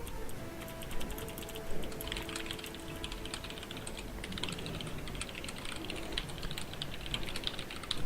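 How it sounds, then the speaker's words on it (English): Steady typing on a computer keyboard, close and continuous, with rapid uneven key clicks against a low background hum. "I'll type it to you on Skype."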